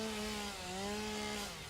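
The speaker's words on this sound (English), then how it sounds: "Chainsaw is so convenient for farming." A held chainsaw from the video game Satisfactory, its engine giving a continuous, close buzzing whine with a slight pitch wobble midway, loud and alone.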